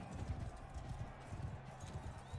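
Horse hooves clip-clop in a steady, rhythmic gait inside a video game, sounding close and moderately loud against low background rumble, with no talking.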